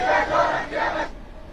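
Large protest crowd marching through the streets of Homs, Syria, a dense roar of many voices shouting together in swelling bursts, loud and close, then dropping off abruptly near the end.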